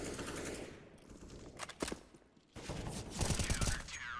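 Rapid bursts of automatic gunfire in a first-person shooter game, with a shot fired through a vent, come in dense clustered volleys that pause briefly around the midpoint before resuming loudly.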